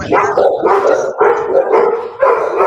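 Dogs bark loudly and close by in a rapid series of about five harsh barks, with no talking over them.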